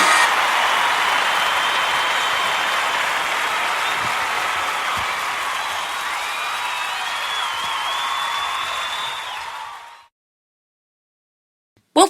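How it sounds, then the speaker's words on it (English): Applause from the audience at a live Christmas show, sustained and full for about ten seconds before cutting off abruptly into silence. "Thank you for that wonderful round of applause"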